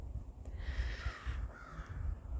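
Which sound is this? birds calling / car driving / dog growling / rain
birds calling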